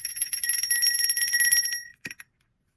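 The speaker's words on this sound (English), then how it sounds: "I'm gonna ring this bell" A handheld bell rings continuously with a bright, shimmering metallic tone for about two seconds, then stops and gives two quick short dings before silence.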